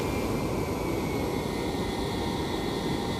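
Citation X jet engines idling while taxiing in a flight simulator: a steady, even broadband rumble with a faint high whine, continuous and unchanging throughout, with no voices.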